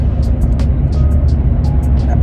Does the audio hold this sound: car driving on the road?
yes